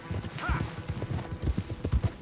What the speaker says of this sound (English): The primary mode of transportation is horses.